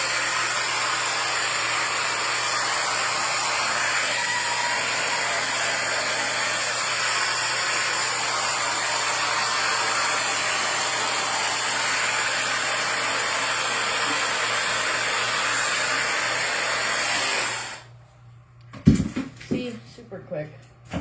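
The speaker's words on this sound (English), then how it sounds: "so I just want to like blow dry my roots" A handheld hair dryer blowing on the roots of someone's hair gives a steady, loud, close whoosh for about seventeen seconds before it shuts off, leaving a few soft handling sounds.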